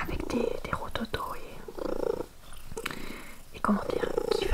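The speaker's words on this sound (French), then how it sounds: "Donc là il ronronne, mais il a un ronronnement" A domestic cat that is unwell, with a rough, rattling purr, purring close by in a soft continuous rumble beneath quiet whispered talk.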